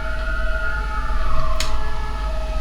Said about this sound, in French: si vous entendez les ambulances